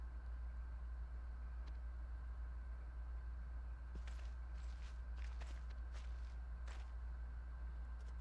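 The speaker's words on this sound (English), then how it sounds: "A lot of sound effects with the footsteps and stuff" Footstep sound effects from the video game NieR, a short run of soft steps in the second half over a steady low hum, without speech.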